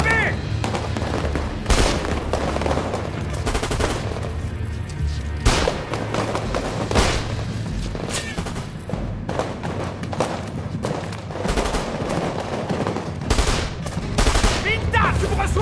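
Dense film gunfire fills a battle scene on sector 3B, with rapid bursts of automatic weapons, sharp cracks and heavy booms repeating loudly and close throughout, mixed with shouted voices.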